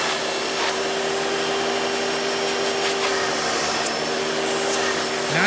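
A Hoover vacuum cleaner with the lever switched over to hose suction gives a loud, steady whine and rushing airflow that runs without a break.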